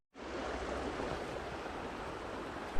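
Steady rushing flow of the Yarra River, a broad continuous wash of water noise that starts abruptly and holds even and fairly loud throughout.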